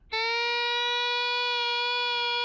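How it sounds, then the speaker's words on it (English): A sustained electric guitar note with distortion on the E string, a single bright tone that swells in and holds steady and loud without talk. "Now we're going to use a little distortion."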